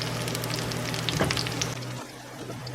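Leftover sage leaves sizzle and crackle steadily in hot butter in a pan, a close, continuous frying hiss with brief stirring bursts that then quietens.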